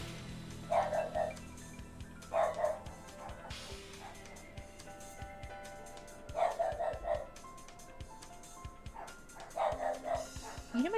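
Several dogs bark in repeated short bursts from a moderate distance, with gaps between volleys, over a low steady background hum and a bit of faint game audio.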